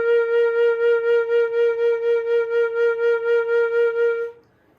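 A flute holds a steady B flat note with pulsing vibrato, the tone wavering evenly about four times per second for over four seconds before stopping, clear and alone with no talking.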